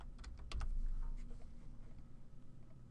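A burst of quick keystrokes on a computer keyboard, a short cluster of close, crisp clicks that thins into lighter, scattered taps in a quiet room.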